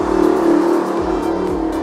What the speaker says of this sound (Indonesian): sorry ada motor.